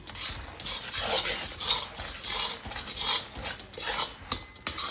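A thick mohanthal mixture of roasted gram flour being stirred continuously in a pan over low heat: a steady rhythmic scraping and rasping of the spoon against the pan bottom, close and fairly loud, with no talk.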